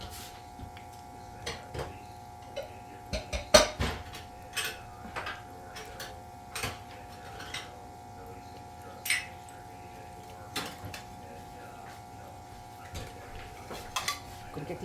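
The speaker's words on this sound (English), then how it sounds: "Let me get the little dishes out." Small sauce dishes clink and clatter against each other as they are taken out in a kitchen, scattered light ceramic knocks spread over several seconds, close but soft, with a steady background hum.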